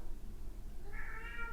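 A pet cat named Domino yowls indoors, a faint drawn-out wavering meow rising over low background rumble, heard alone without talk.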